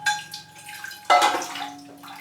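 A dry orchid with exposed roots is dunked into water to soak: a soft splash and gurgle, then a brief settling trickle of water, close and quiet.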